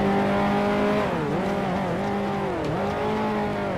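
Close, loud engine of a 1955 Formula One race car in the Grand Prix Legends game at Monaco, held steady then dropping in pitch several times as aggressive downshifts use engine braking to slow the car.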